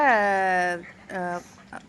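A pet dog named Caesar whimpers and yips in high, drawn-out whines, two longer cries followed by a brief yelp, close by.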